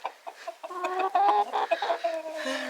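Chickens clucking in a backyard coop, several hens with overlapping close clucks and tonal squawks running continuously, loud and unbroken, with no talk.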